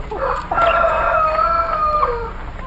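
A chicken clucking and then crowing, a near, loud, drawn-out cock-a-doodle-doo following a few short clucks, heard alone with no talking.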